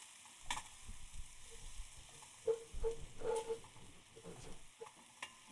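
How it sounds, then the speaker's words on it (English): Beans being stirred in a pot while onions fry in a pan, with soft scraping stirs and scattered clinks over a faint, steady sizzle in a quiet kitchen. "All right, so for your beans, give them a stir. Okay. Our onions look like they're doing pretty good."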